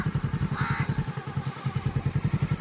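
A motorcycle engine runs close by at a steady, fast, throbbing pulse while a boy is taught to ride, with a rough mechanical clatter over a low, even rumble.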